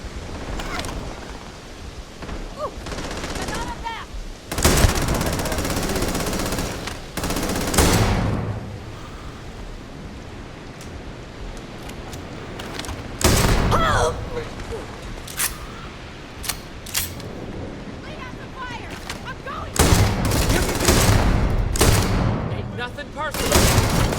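Enemy gunfire crackles in the sci-fi video game Starfield, with repeated sharp bursts and volleys of shots, some close and loud, scattered irregularly over a steady background din.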